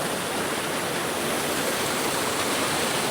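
Waterfall on the Tryfan North Ridge hike in Wales, a steady, loud broadband rush of falling water that stays constant and close throughout, with no voices.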